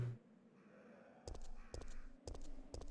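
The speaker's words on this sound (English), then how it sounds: "Because there's no point in fighting the damn birds." Crows cawing in Resident Evil 3: Nemesis, four loud harsh caws in a row after a quiet eerie ambient lead-in.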